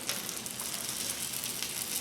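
A flat iron steak sizzles steadily on a hot salt block just after being flipped, a continuous soft hiss with faint crackles, fairly quiet and with no talking.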